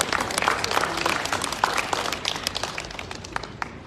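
A church congregation at a wedding blessing bursts into applause, a steady patter of many hands clapping that gradually thins out, heard alone without talk.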